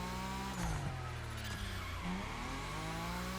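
Nissan Z Pro Drift car in The Crew Motorfest screeching its tires in a sustained drift, the engine roaring loud and close with rising and falling revs across a few seconds.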